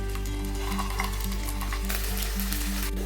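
Potato snack bites frying in hot oil over low heat, a steady, dense sizzle and crackle with a constant low hum underneath, no talking.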